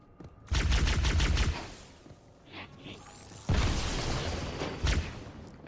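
Rapid bursts of gunfire in the Halo 2 video game, two loud volleys separated by a quieter gap with a faint whoosh, close and dense.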